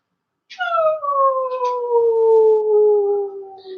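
A child howls like a dog, imitating it in a long, sliding, tonal wail that starts with a sharp yelp and falls slowly in pitch, loud and close, alone.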